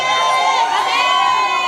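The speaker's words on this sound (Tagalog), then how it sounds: "Marami nagtataas, marami sumisigaw, pati yung mga nasa likod." Audience at a content creators' talk in Italy shouting and cheering together, a loud, dense wash of many voices, children's and adults' mixed, rising and holding steady close by.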